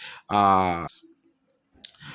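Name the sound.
mouse click on a web page link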